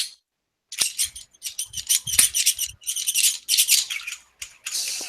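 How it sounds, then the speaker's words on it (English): A Glock pistol squeaks as it is handled, producing a run of high, chirpy squeaks in quick irregular bursts, close and fairly loud, with no talk over them. "It's the Glock's signature squeak."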